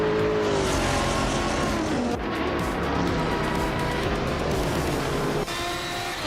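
A 2004 Cadillac CTS-V race car in a racing video game roars loudly and steadily at high revs throughout, its engine note shifting with gear changes, with no voices.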